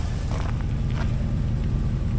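A 2004 Hummer H2 with a 6.0L LQ4 V8 drives along, its engine a steady, loud low rumble that holds even throughout, with faint higher road and wind noise above.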